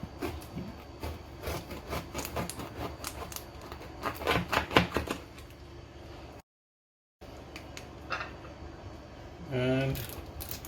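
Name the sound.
knife cutting food on a board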